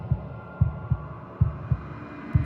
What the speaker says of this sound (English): a wooden and fleshy heart beating with an unbroken rhythm